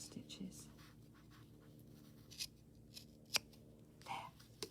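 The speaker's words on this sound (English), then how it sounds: "You just want to cut up that clear line where you have your running stitches." Scissors snip through knitted fabric along a line of running stitches to open a steek, giving a few quiet, close cuts spread across the stretch, with soft handling rustle and faint background hum between them.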